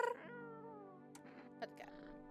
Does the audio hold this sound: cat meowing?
yes